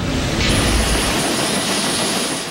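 A refurbished UH-1D helicopter of the Philippine Air Force gives a loud, steady, close engine and rotor roar that holds for the whole stretch.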